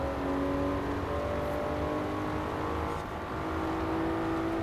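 A Toyota Celica ST205 rally build in Forza Horizon 4, with all-wheel drive, stock long-geared gearbox and upgraded cams revving to 9,000 RPM, holds a steady, loud, high engine drone throughout with no talk.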